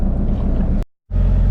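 A classic powerboat's engine drones steadily while cruising around Southwest Harbor, Maine, loud and close with wind buffeting, briefly cut out by a short gap before resuming at full strength.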